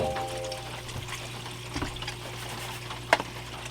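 Water pours and flows through a gold sluice over wetted paydirt, a steady wash with a low hum and a few small splashes and knocks, including one sharper clink near the end.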